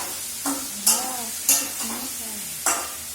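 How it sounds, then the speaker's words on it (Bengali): Eggs sizzle in a hot pan while a spoon stirs them, a soft frying hiss broken by several sharp scraping stirs against the pan. "তো ডিম রান্না করছি, দেখতে পাচ্ছ।"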